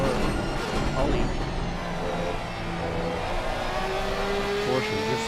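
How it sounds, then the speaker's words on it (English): A Porsche GT3 race car screams at high revs in an esports racing game at Donington, the engine steady and loud with rising gear tones throughout, while a commentator talks over it. "Porsche, this engine just screams, doesn't it?"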